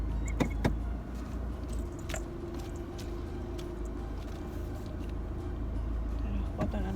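Busy street traffic with many cars during Christmas shopping makes a steady low rumble, with occasional clinks and jangles close by.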